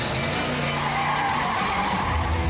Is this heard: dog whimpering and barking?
no